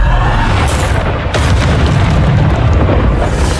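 Bombarda blasting spells from Hogwarts Legacy, loud and continuous booming explosions with dense rumbling debris that fill the whole stretch without any pause.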